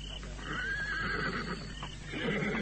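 A horse whinnies in a stable, a drawn-out rising and falling call over a steady background of murmuring voices and low ambient noise, with faint hoof shuffles.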